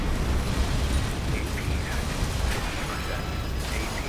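Missile explosions strike a player's mech in Armored Core VI, a dense, continuous barrage of booming blasts and mechanical clatter that stays loud across the whole stretch, with a voice briefly audible over it.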